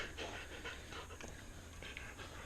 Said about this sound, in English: You old black-tongued dog.